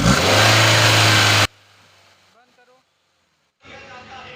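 A petrol Honda City engine with an accelerator fault revving hard, a loud close roar for about a second and a half, then cutting off into near silence before faint noise returns.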